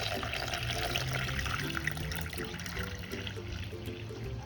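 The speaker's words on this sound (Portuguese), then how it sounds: "E vou adicionar 6 xícaras de água, tá? A essa farinha." Six cups of water, about 1.25 litres, poured into flour for homemade paint paste make a soft, steady splashing and trickling throughout, fairly quiet and unbroken.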